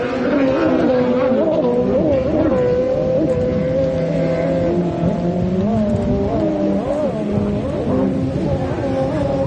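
Several jet ski engines roar and whine through a race, their pitch rising and falling as they accelerate and turn, loud and continuous, with a mix of near and more distant machines.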